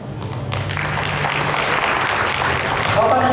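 Audience applause at an alumni association inauguration and work meeting, a dense, steady wash of clapping from a crowd that starts quickly and holds at full strength throughout, with faint voices underneath.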